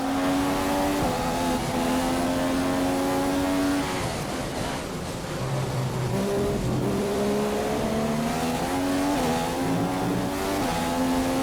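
An F1 racing car in the video game F1 2015, on the German Grand Prix circuit, accelerates hard. Its high engine whine climbs through repeated gear shifts for the whole stretch, loud and continuous, with no voices.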